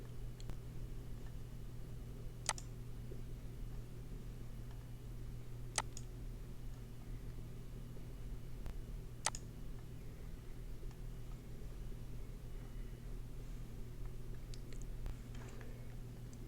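A computer mouse gives three sharp, isolated clicks spaced a few seconds apart over a low steady hum, quiet and close.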